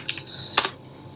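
A few quick keystrokes on a computer keyboard while a git command is typed, with two distinct clicks close together and then a faint tap.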